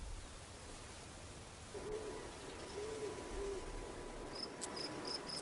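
A great horned owl in the desert gives three low, soft hoots, faint and somewhat distant over a steady hiss, followed by a few short, high insect chirps near the end.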